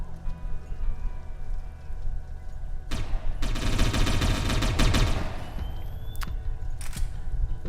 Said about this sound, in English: We're just gonna shoot everyone who comes our way.